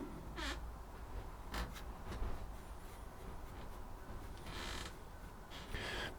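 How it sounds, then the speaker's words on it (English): An open studio door gives a few faint creaks and groans, thin and drawn out, scattered over a steady background rustle. "Give a few creaks and groans. This is because I've got my studio door open."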